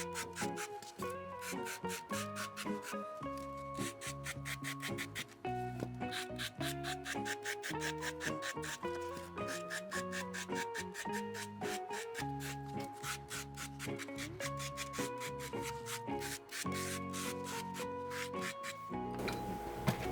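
A brush sweeping fine shavings off a small carved Mickey shoe sculpture, a continuous dense scratchy rubbing with rapid repeated strokes, close and steady for the whole stretch.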